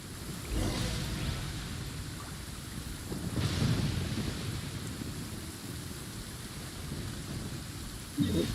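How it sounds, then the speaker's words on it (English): Thunder rumbles low through heavy rain in Genshin Impact, swelling in deep, rolling waves, with a sharp crack near the end. "Lightning strike."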